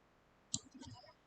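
A single sharp computer mouse click, close and crisp, followed by a faint soft voice murmuring in a quiet room.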